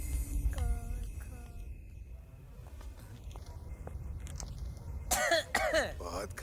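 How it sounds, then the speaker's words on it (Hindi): Several short, harsh coughs and throat-clearing sounds near the end, close and fairly loud, after a stretch of quieter background noise and faint voices. "बहुत खांसी आ रही है"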